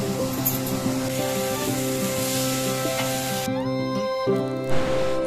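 Sardines fry on a flat dosa griddle with a steady, close sizzling hiss that runs unbroken throughout, with no one talking.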